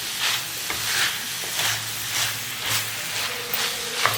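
Vegetables seasoned with turmeric and salt are stirred in a pan, with a spoon scraping in repeated strokes about every half second over a steady soft sizzle. No one speaks.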